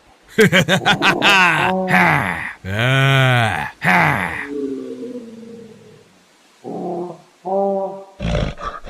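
A big black monkey roars loudly in a village, a series of deep bellowing, groaning calls that swell and fade, followed by a few shorter cries, close and alone without talk.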